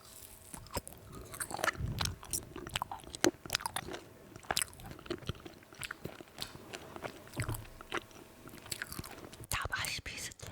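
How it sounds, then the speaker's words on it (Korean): Frozen strawberry jelly is bitten and chewed up close, with sharp crunchy bites and wet chewing in an uneven rhythm, loud and intimate, with faint whispering at moments. "먹어볼게요."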